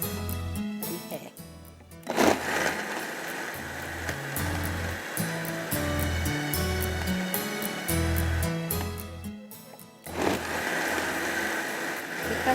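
Blender crushing ice for an orange slush, a steady loud whir with rattling ice that stops briefly near two seconds and again near ten, then restarts, with no talk.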